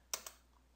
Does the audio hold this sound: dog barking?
no